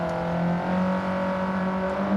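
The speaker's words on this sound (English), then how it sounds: "Kyle Brennan driving the Mitsubishi Lancer Evolution 4, Miyazono driving the Subaru" A Mitsubishi Lancer Evolution 4 and a Subaru WRX race in Gran Turismo 7, their engines holding a steady, strained whine at high revs, close and continuous with no talk.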